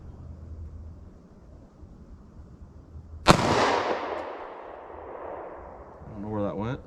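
A single loud .45 ACP pistol shot fired outdoors in a short-barrel ballistic gel test, a sharp crack followed by a long rolling echo that fades, with a voice speaking faintly near the end.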